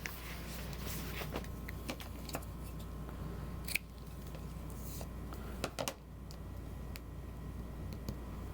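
Scissors snipping through fabric while cutting bag pattern pieces and a small scrap, a series of faint, sparse clicks and snips over a quiet room hum, with no talking.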